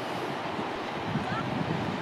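Wind blows steadily at the seaside at sunset, a soft, continuous broadband rush with gusty buffeting at the microphone and a faint wash of surf underneath.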